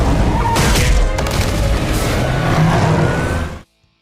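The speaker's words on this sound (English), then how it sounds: "Batman literally just hit them with his car" The Batmobile tears through a cartoon car chase and slams into criminals: a loud, dense rush of engine roar, impacts and crashing booms that cuts off abruptly into silence.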